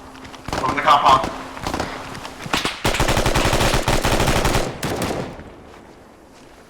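Rapid bursts of automatic gunfire in the military shooter game ACES, a short volley followed by a sustained stretch of fast cracking shots, loud and near, with voices calling out over and between the firing.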